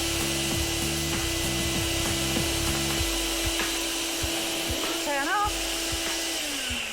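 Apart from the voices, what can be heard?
vacuum pump sealing a clothes storage bag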